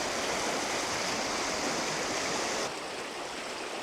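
River rapids rushing in a steady, loud, broadband roar close at hand, with no voices. The rush drops slightly in level near the end.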